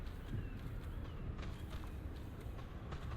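Footsteps in Dark Souls Remastered in the Lower Undead Burg, faint repeated thumps set against a heavy droning ambient bed that fills the background.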